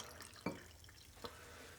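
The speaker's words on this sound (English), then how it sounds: "And then we're going to add about 8 ounces of water." Water poured into a glass for a lemon drink, faint and close, heard as a couple of soft splashes and brief trickles over quiet room noise, with no voices.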